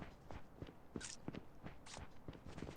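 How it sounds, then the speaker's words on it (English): Footsteps in the mobile shooter Call of Duty Mobile, a quiet series of soft irregular steps with a few sharper scuffs, faint and fairly close. "I hear a few footsteps here"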